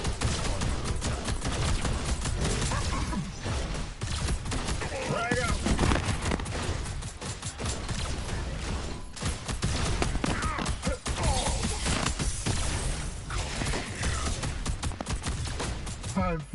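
Dense, continuous rapid gunfire and blasts from the video game Predecessor, loud and close and layered into a constant wall of noise for the whole stretch.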